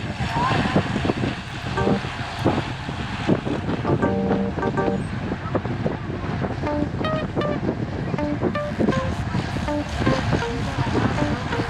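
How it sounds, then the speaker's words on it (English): Wind roars steadily into the microphone as a group of cyclists rides north into a headwind on an open road, with bike and road noise and chatter underneath. "whenever we go north, we're going into the wind"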